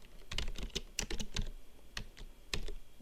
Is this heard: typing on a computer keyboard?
yes